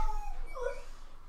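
A dog lets out a brief, wavering howl-like whine, faint and somewhat distant, with a low steady hum underneath.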